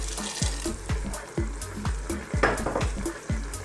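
Pata tim being stirred in a pot with star anise, oyster sauce and a little added water: a steady, close sizzle with regular scraping strokes roughly every half second, no talk.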